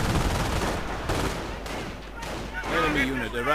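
Gunfire in a video game battle, with Gewehr rifles and light machine guns cutting down infantry: bursts of rapid shots and scattered single cracks, fairly distant and moderate in level, over a dense battle backdrop.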